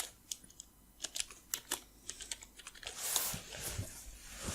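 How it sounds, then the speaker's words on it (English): Someone types a search on a computer keyboard: a quick, close run of light, crisp keystrokes in uneven bursts, followed by a short rustling swell of noise. "you type download 3D rocks"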